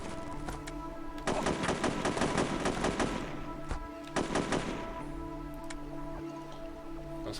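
Gunfire in the video game Nightlong: Union City Conspiracy, heard as two dense bursts of rapid, loud shots separated by a short pause, over a low steady ambient hum.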